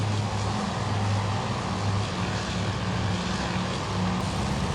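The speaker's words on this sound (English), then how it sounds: "our Devastators are diving down in towards the carrier" A Devastator dive bomber from Task Force Admiral, a naval air-combat game, roars through a steep dive toward a carrier, with a steady, loud propeller-engine drone and low humming tones that hold throughout.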